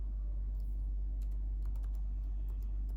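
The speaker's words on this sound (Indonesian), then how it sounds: "Di sini kita ketik batas proporsional" Keys on a computer keyboard click in short, light, uneven taps over a steady low hum, close and fairly quiet, with no talking.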